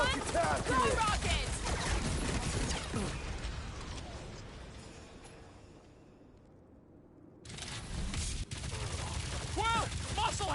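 Gunfire rattles through a fight against a big bot in the Guardians of the Galaxy video game, with dense bursts of shots that fade to a near-silent lull mid-way and then return loud alongside other combat sounds.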